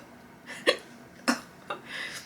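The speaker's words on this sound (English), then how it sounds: "Oh my god, these hiccups." Three or four sharp, quiet hiccups sound at irregular intervals from a single person at close range, with faint breathy noise between them.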